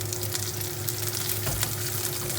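Garlic and salmon skin fry together in a pan with a steady, close sizzle and crackle that runs throughout, no voices over it.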